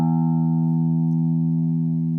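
A single open low E string on a guitar rings out in a blues setting, one sustained, steady note with rich overtones that holds evenly for the whole stretch, close and fairly loud with no talking.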